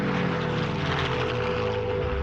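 A 1948 fighter plane climbs at full power, its engine making a loud, continuous propeller drone that holds steady throughout.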